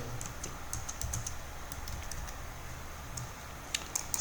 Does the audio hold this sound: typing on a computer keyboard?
yes